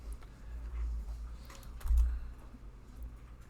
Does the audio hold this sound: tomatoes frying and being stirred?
no